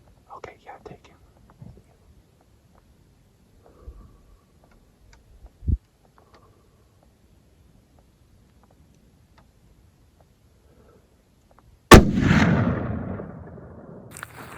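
A single loud rifle shot rings out during a mule deer hunt on public land in Colorado, its sharp crack followed by a long echoing rumble, after faint whispered talk and a few soft clicks.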